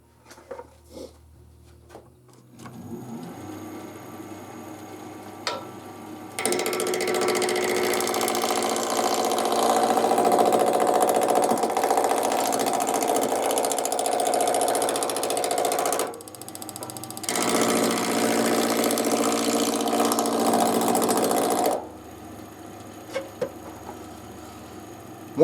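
Wood lathe motor whirring steadily at speed as a roughing gouge turns wood through a knot, a loud sustained hum that drops out briefly before resuming, then stops.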